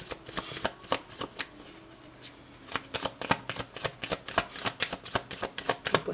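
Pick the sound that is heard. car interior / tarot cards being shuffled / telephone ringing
tarot cards being shuffled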